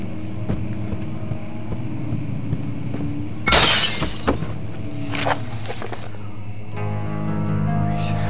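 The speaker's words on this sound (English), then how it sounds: "Can I not get you till I break the glass?" Glass smashed with a rock in the horror game Amnesia: The Dark Descent: one sharp, bright crash with a short scatter of shards, then a few smaller clinks over a low droning ambience.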